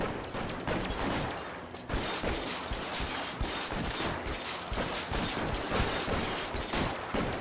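Sustained enemy gunfire in L.A. Noire, dense rapid shots and bursts cracking continuously throughout a firefight with no let-up.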